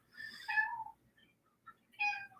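A pet cat named Foxy, a plump female, gives two short, bright meows separated by a pause of about a second, close and clear in an otherwise quiet room.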